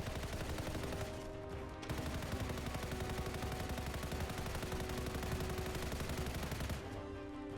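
Sustained heavy automatic gunfire in the sci-fi shooter Anthem during a boss fight against a swarm tyrant, a dense, loud, unbroken barrage that stops briefly and then resumes.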